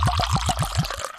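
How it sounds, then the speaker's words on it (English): E.H. Taylor Small Batch bourbon pouring from a freshly uncorked bottle into a glass, a close, steady liquid stream with rhythmic glugging pulses that taper off near the end. "That's a live pour for those that don't know. That's actually coming out of the bottle right now."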